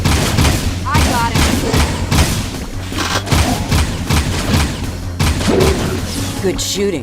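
Rapid, continuous gunfire in the Jak II video game, loud dense bursts of shots and booms filling the scene, with game voices and effects mixed in.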